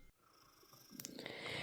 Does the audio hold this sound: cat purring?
yes